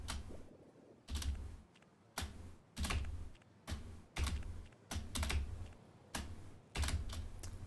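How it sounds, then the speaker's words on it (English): Repeated spacebar taps on a computer keyboard while playing the game Frog Space, about ten firm, evenly spaced presses with short pauses between them, close and clear. "My finger slipped because I didn't lift my hand high enough off the spacebar."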